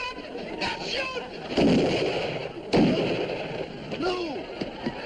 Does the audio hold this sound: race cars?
no